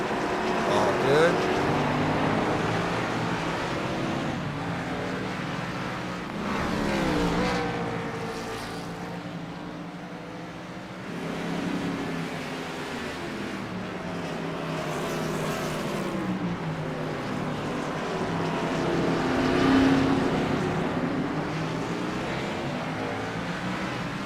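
Race cars at Sonoma, including pit lane traffic in a Gen4 series event, pass with engine drones that swell and fade repeatedly across the stretch, with commentary spoken over them.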